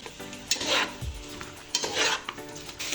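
Finger-cut potatoes hit a pot and fry for mutton yakhni pulao, with bright bursts of sizzling and scraping stirred in two waves over a steady frying hiss, plus a low thud near the middle.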